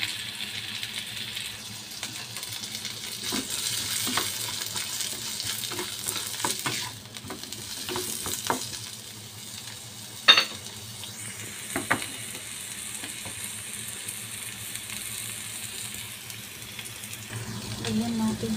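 Vegetarian fried rice without egg sizzles steadily in a pan, with scattered scraping and clinking of a utensil stirring the rice and a louder knock partway through, while a voice talks at times.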